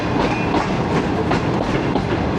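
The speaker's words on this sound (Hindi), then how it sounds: "Toba take Singh railway station पहुंच रही है ट्रेन" A train rolls into Toba Tek Singh railway station in Pakistan, its wheels beating a close, loud clickety-clack rhythm over the rails with steady rumbling underneath, no voices.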